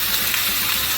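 Ginger and garlic paste hits hot oil in a pan while Nigerian fried rice is cooked, giving a steady, loud, bright sizzle and hiss that carries on unbroken, with no voices.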